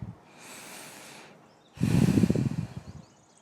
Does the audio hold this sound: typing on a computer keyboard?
no